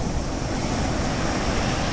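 Sea waves breaking on the shore, a continuous loud wash of surf mixed with wind buffeting the microphone, with no voices.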